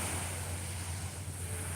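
Steady wash of calm sea water along the Salerno coast, a soft continuous murmur with light wind noise over the microphone and a low rumble underneath, with no voices.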